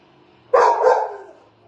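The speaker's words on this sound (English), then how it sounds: "Lucy sits there and barks at them until they acknowledge her and yell hello to her" Lucy the dog lets out one loud, close bark that breaks into two quick pulses and then trails off, with quiet surroundings on either side.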